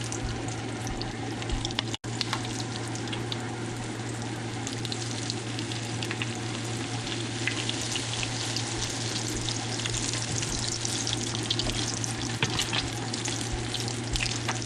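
Walleye fish cakes fry in very hot oil, a dense, steady sizzle with fine crackles and pops running unbroken throughout, close and fairly loud, with no talking.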